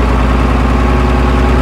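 The air-cooled engine of a 1950s Mack truck runs loud and close, a steady, heavy, throbbing rumble with a fast knocking pulse and no break or voices.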